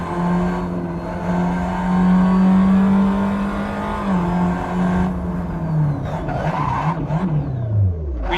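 A Tatuus FA01 open-wheel race car in Assetto Corsa howls at full throttle up the Pikes Peak course, a loud steady engine drone that rises and falls through gear changes and slides, with no talk.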